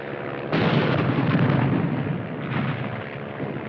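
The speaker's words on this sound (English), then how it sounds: "Piper Cup's calling the shots for artillery" Artillery fire in a 1951 war film, a loud sustained barrage of booming blasts that erupts suddenly and rumbles on without pause, close and dense with no speech.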